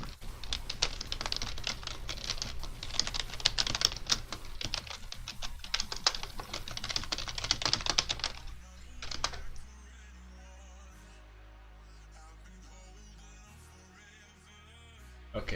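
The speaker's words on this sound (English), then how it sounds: "Hold up, need to type something" Rapid, steady clatter of a computer keyboard being typed on at close range for about eight seconds, then it stops and only a quiet low hum remains.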